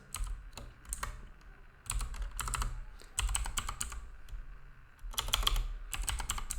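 SQL code typed on a computer keyboard, brisk bursts of close, clattering keystrokes with short pauses between runs, no speech.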